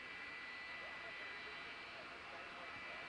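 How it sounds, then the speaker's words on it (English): Jet dryers roar steadily across the track at Darlington Raceway during a 2002 Busch Series race, a faint, distant, continuous whine and rumble. "Well, I'm waiting to hear that sound stop. The jet dryers?"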